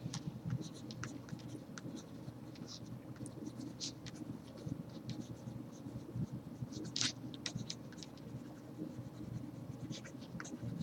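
Pen scratching and scribbling on paper while drawing Zentangle patterns, steady soft strokes close by with brief light taps, continuous throughout.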